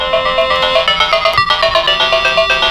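Tinny electronic game music and beeps from an Atari Lynx Model 2 handheld's speaker at maximum volume after its capacitors were replaced, a steady looping chiptune tune playing loud and close without interruption.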